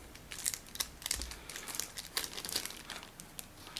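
Card pack packaging and a cardboard insert are unwrapped up close, giving continuous crinkling and crumpling with small tearing rustles and no talking.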